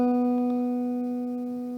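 A single open B string on an acoustic guitar rings out clearly and sustains, fading only slightly, with no voices.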